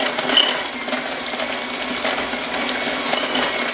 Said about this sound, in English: I'll increase my mixer a little bit.